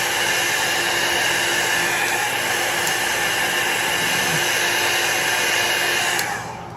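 A heat tool blows steadily on alcohol ink, a loud continuous airy roar that holds for several seconds before cutting off near the end.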